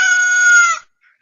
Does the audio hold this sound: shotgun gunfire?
no